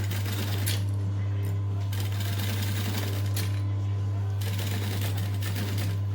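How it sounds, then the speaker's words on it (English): Sewing machine stitching a Bonnie bucket bag, giving a steady loud mechanical whir with fast rhythmic stitching clatter that stops briefly a few times and then resumes. "I'm going to stitch probably 2 stitch lengths past the original stitches."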